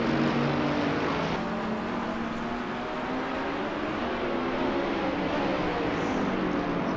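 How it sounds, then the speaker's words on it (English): GT race cars lapping the Magione circuit, with steady engine drone and harmonic whine that holds at a constant loudness, suggesting several cars running nearby without a distinct single pass-by. "these kind of cars are highly refined race cars"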